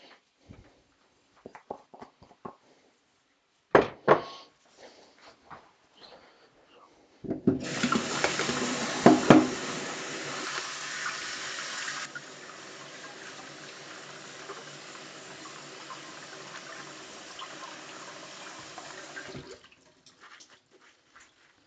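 Kitchen tap water runs steadily over arugula leaves being washed, a hissing stream that starts after some clattering handling noises and continues loud and unbroken for about twelve seconds before shutting off.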